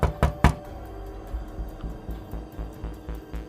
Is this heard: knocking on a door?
yes